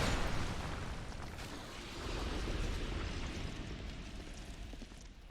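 A golden fruit bomb explosion in Dark Souls II sounds as a deep rumbling boom, then a broad roaring blast that swells again and fades slowly, with no voices.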